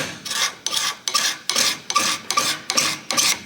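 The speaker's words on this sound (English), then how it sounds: "just scrape that out" A hand scraper rasps across a steam engine bearing surface, taking off fine metal in about eight steady, evenly spaced strokes, each a sharp scratchy pass with a brief gap between, close and clear with no talk.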